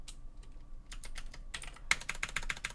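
Rapid clicking keystrokes on a computer keyboard, close and steady, with a short pause before a faster, louder burst of typing.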